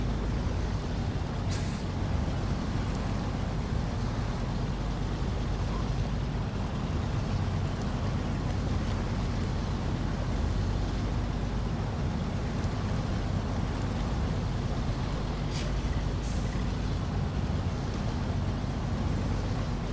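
An all-wheel-drive off-road truck with diff lock engaged rumbles in a low, continuous engine drone while crawling over rough ground in a driving game, with a couple of brief hissing bursts and no talk.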